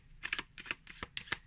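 Sleeved pocket-size 8-bit tarot cards being shuffled, several quick soft slithering riffles as the plastic-sleeved cards slide against each other, close and quiet.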